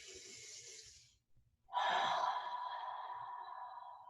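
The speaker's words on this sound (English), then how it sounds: "Let's take 3 breaths here" Slow, deep breathing in a yoga child's pose: one long airy exhale trails off, a brief pause follows, then a fuller breath rushes in close to the microphone and holds steady.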